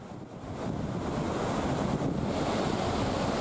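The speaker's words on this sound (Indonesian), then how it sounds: "Ombak setinggi 3 meter disertai angin kencang secara tiba-tiba melanda perairan Merauke" Three-metre ocean waves driven by strong wind batter the Merauke waters, a loud, continuous roar of surf mixed with heavy wind buffeting the microphone, building slightly and holding steady throughout.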